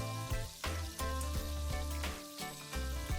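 Poha cutlets fry in hot oil, giving a steady, close crackling sizzle for a few seconds over a rhythmic, tonal background, with no talking.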